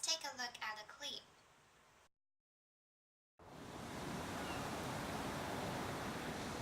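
Ocean surf captured while surfing on warm, glassy summer water with a 360-degree camera: a steady broadband wash of waves and water rush, loud and continuous, after a short stretch of talk and a silent gap.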